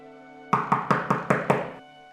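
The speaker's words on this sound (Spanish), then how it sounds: "Llamó a la puerta y dijo" Six even, solid knocks on a wooden door in quick succession, close and fairly loud over a faint steady background hum.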